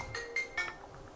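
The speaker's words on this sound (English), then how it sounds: "I'm going to quiet the cell phone." A cell phone ringtone chimes in short bright bursts, three close electronic tones followed by fainter echoing notes, ringing out clearly in an otherwise quiet room.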